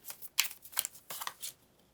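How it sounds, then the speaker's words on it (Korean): Tarot cards are drawn from a deck in a quick run of soft papery slides and flicks, close and quiet, with no voice over them. "한 장을 더 뽑아볼게요."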